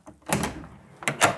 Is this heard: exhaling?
no